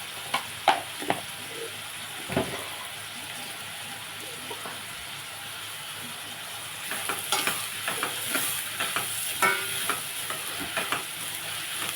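Onions frying in a pan with turmeric and salt, a steady close sizzle throughout with occasional stirring scrapes and clicks of a utensil, louder stirring toward the end, no talk over it.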